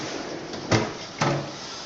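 A bottom drawer being opened to take out a small bulb: two short wooden clunks about half a second apart, close by, over a steady background hiss.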